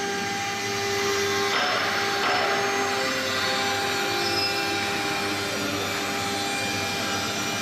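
A CNC cylinder engraving milling machine, model MS3020K12, running with a steady loud whine and hum, constant and continuous with faint shifts in tone, close by.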